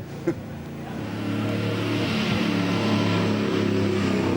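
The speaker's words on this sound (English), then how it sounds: "there's the car on the track now" A Holden Monaro race car at Bathurst roars along the circuit, its engine note rising and holding steady as it accelerates, loud and continuous after a brief click at the start.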